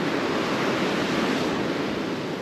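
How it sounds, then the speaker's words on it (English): Waves crash violently onto a stormy coastline, a dense, continuous roar of surf with wind noise, loud and steady without a break. "because the waves have been so violent today"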